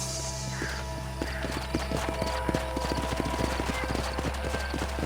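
Horses galloping in the Red Dead Redemption video game, a rapid, steady clatter of hooves close by over a low rumble, building in loudness, with no talk over it.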